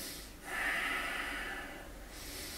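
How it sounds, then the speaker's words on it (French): Nasal breathing during a core-strengthening plank workout, one long audible inhale and exhale through the nose, soft and close, with no talk. "On inspire par le nez et on expire par le nez également."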